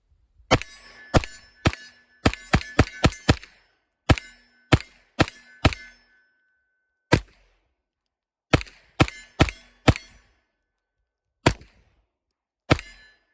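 Sharp, loud gunshots from a 9mm AR rifle, fired singly and in quick bursts with short pauses between, each crack ringing with a metallic tail.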